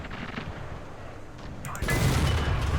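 Tank cannon fire in the War Thunder video game: a low background rumble, then a sudden loud booming blast that rolls on with heavy noise to the end.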